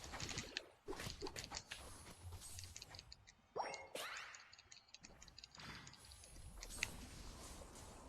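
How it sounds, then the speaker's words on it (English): A pigeon or similar bird heard close by in a Pokemon Unite match, with soft cooing and ticking clock-like game sounds over a busy, steady game soundscape; no one talks. "This bird will not leave us alone."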